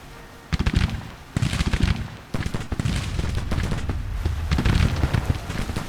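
Musket volleys from Civil War infantry in the strategy game Grand Tactician: The Civil War: bursts of crackling gunfire in uneven clusters, loud and dense, with a steady rattle between the heavier volleys.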